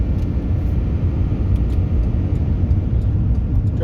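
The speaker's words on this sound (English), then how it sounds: "Driving down the main street here" Steady, loud car engine and road rumble while driving slowly along the main street of Fritch, Texas, a small town, continuous throughout with no talking.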